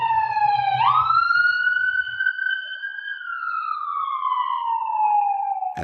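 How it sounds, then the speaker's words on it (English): A police car or ambulance siren wails past in one long sweeping tone, jumping higher as it nears, then slowly sliding lower as it moves away, loud and steady with faint background rumble. "that ambulance or that cop car is coming down the road, it is a lower sound"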